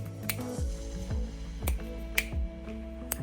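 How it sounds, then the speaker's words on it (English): Finger clicks in a studio room treated with rock wool bass traps, five or six crisp, dry snaps spaced about half a second apart, close and alone over a steady low hum. "I don't know if you can hear if I just click my fingers"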